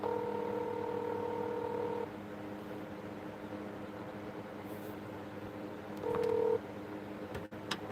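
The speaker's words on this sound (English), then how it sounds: "Let me call her again." Telephone keypad tones sound while someone calls a person, one long steady tone followed after a pause by a short second tone, faint over a constant low background hiss.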